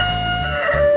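A mother hen clucks close by in a backyard coop, a short burst of throaty calls lasting about a second, loud and clear with no talk over it.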